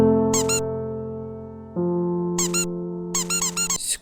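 A squeaky sound effect from the final secret in the video game Iji, with synthetic squeaks in quick bursts over a sustained tonal drone that shifts pitch midway.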